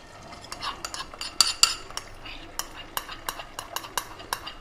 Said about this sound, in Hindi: इसमें मैं 2 अंडे फेंट के और इसमें मैंने 1 पिंच सॉल्ट डाला है।